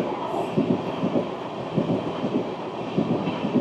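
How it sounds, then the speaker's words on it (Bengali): The 15509 Guwahati Sairang Express runs through Hortoki station without stopping, a steady rolling rumble with rhythmic wheel clicks over rail joints and a faint high squeal, heard nearby with no voices. "হর্তকি স্টেশন স্কিপ করছে গুয়াহাটি সাইরাং এক্সপ্রেস"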